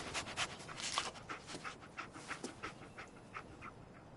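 Dogmeat, the dog companion in Fallout 4, pants in rapid, rhythmic breaths close up, with no talking.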